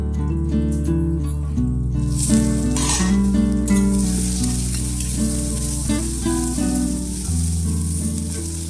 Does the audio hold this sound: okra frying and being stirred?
yes